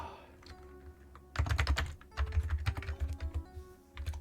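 Someone types on an Amiga keyboard in irregular bursts of clicky keystrokes, close and fairly quiet, with short pauses between flurries.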